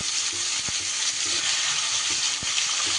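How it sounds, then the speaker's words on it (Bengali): Ivy gourd sizzling and frying steadily in hot oil in a pan, a continuous close hiss with a couple of faint knocks from stirring. "আলু তুলে নিয়ে এবার আমি এই তেলের মধ্যে কুঁদরিগুলো দিয়ে দিলাম।"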